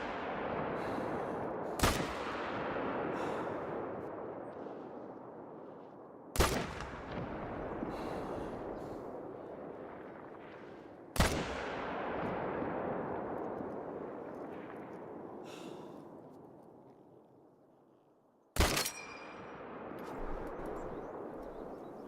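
Four loud 30-06 rifle shots crack in theHunter: Call of the Wild, spaced several seconds apart, each a sharp blast followed by a long rolling echo that fades across open terrain.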